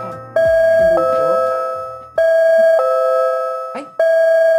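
A loud electronic doorbell chimes repeatedly during a talk show, ringing out a series of ding-dong tones in close succession, each ring decaying before the next, with brief talk and noise between chimes.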